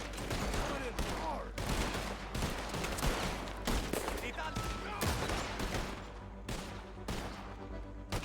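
Shotgun blasts ring out in Red Dead Redemption II, a rapid series of sharp, loud booms at irregular intervals with short gaps between volleys, amid game ambience and occasional voices.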